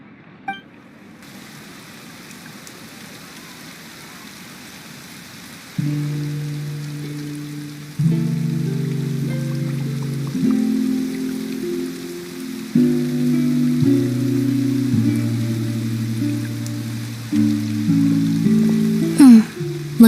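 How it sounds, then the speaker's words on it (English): Rain in the Fontaine region of Genshin Impact, a steady hiss of falling rain that starts faint and grows louder, heard under sustained low game music swelling in layered chords. "Looks like rain."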